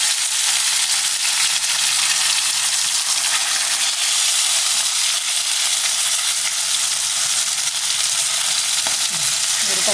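Pearl spot fish fries Kerala style in a pan, a steady, close, even sizzle and hiss of hot oil running unbroken throughout with no talk.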